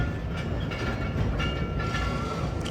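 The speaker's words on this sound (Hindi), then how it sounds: "2 मिनट रुकने के बाद सनामा रेलवे स्टेशन से डिपार्ट कर रही है 128 डाउन मेहर एक्सप्रेस" A Pakistan Railways passenger express, the 128 Down Mehar Express, pulls out of Sanama station, its steady rolling rumble and wheel clatter loud and continuous throughout, with faint higher squeals riding over the low roar.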